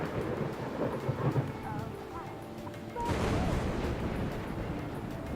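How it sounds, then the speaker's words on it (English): A storm with surging floodwaters in the video game Dyscourse: a dense roar of rain and rumbling thunder, swelling louder partway through, with no talk. "Floodwaters!"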